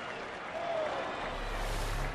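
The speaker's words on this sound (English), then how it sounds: "listen to this Kauffman crowd who love that effort" A baseball crowd at Kauffman Stadium cheers and applauds in a broad, steady wash of noise that swells slightly midway, with low rumble underneath.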